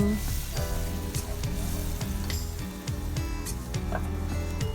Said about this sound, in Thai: รอจนเดือดอีกรอบหนึ่ง